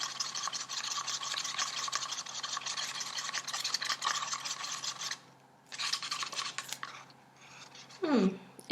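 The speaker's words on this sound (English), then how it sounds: "now I'm going to mix the gray luster in my resin" Gray luster pigment is stirred into resin with a steady, close scraping and swishing that runs for several seconds, pauses briefly, resumes and ends with a brief tap.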